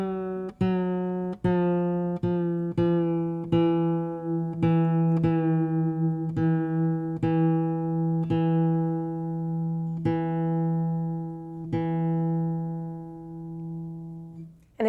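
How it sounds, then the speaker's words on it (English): A guitar's G string is plucked repeatedly and lowered in pitch toward E, about a dozen clear notes at a steady rhythm, each ringing out with rich harmonics and no talking. "is going to go down to an E."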